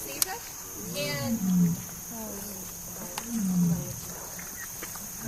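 A 900-pound tiger roars at a rescue sanctuary at dusk, two deep drawn-out bellows rising and falling over several seconds, carrying clearly over a quiet outdoor background.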